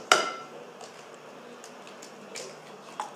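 Sharp crack as a whole egg goes into a bowl of red velvet cupcake batter, a single near tap at the start followed by faint kitchen ticks and light clinks.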